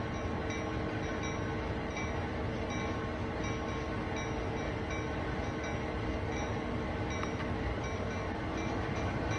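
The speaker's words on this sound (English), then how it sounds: "Giving the locomotive a nudge." An SD40 locomotive being nudged in the Train Sim World 2 game, a loud continuous diesel rumble and rolling rail noise with a steady hum throughout.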